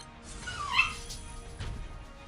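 A small dog whimpering and letting out a thin high yip, faint and somewhat distant over low background noise.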